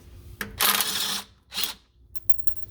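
A small hand drill whirs in two short bursts while backing out transmission pan bolts on a 2017 Toyota Tacoma TRD, close and loud, followed by a few faint clicks.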